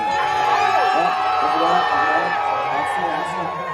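A Renaissance faire crowd at Irwindale yells and cheers steadily and loudly throughout, a dense wash of many voices with a couple of whoops near the end.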